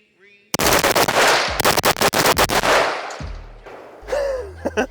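A Vintorez suppressed rifle fires full auto in a long, fast, loud burst of muffled shots with a couple of brief pauses, then mechanical clunks and a voice afterward.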